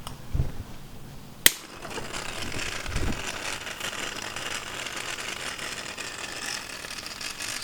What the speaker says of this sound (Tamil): நான் வந்து இந்த மோட்டர் தான் கொஞ்சம் ப்ராப்ளம். ஏதோ கடமுடான்னு ஓடுது